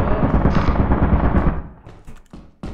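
A turret in the video game Lethal Company fires a rapid, loud, continuous burst of shots that stops abruptly partway through, followed by a brief quieter pause and another sharp hit.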